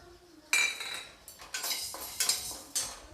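Chana dal and urad dal being dry-roasted in a kadhai on a low flame, stirred with a metal spoon that scrapes and clinks against the pan in a run of quiet, irregular strokes.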